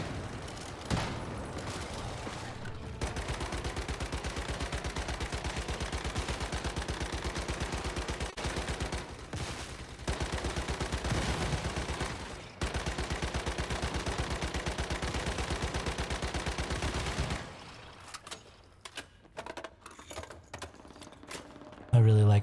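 Sustained machine gun fire in the video game Once Human, a dense rapid stream of shots running continuously for many seconds before breaking into scattered bursts and clicks, with a voice talking underneath.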